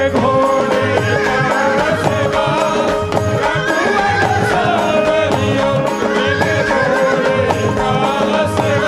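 A horse neighs and whinnies loudly over continuous devotional music, with clip-clop hoofbeats mixed in throughout.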